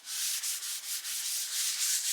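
A gloved hand rubs tung oil into a wooden cutting board, producing soft, close, breathy swishing strokes in a quick repeating rhythm, quiet and without voices.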